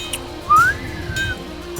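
A clear whistled melody line from the Friday Night Fortress spy song, a single bright sliding note rising then held and gently falling, sitting above a soft background music bed.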